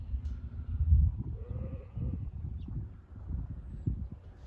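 Sheep and lambs bleat on a farm, giving several moderately loud, wavering calls against a low, rustling background.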